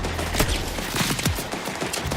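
Sniper rifle fire in the shooter game Borderlands 4: several sharp, loud gunshots in quick succession with impacts between them, close up and without any talk.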